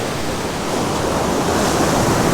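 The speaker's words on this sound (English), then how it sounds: "those waves are starting to sneak up now under the branches" Ocean waves wash up along a coastline beneath tree branches at rising tide, a steady broad roar of surf that swells slightly and holds close and continuous with no voices.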